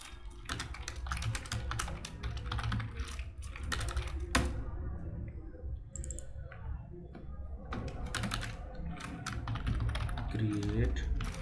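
Rapid computer-keyboard typing clatters through most of the stretch, close and steady with short pauses, while someone talks over it in places.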